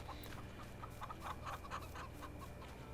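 Chickens in a Farming Simulator 22 game cluck again and again in soft, close calls, with a steady low background drone underneath and no one talking.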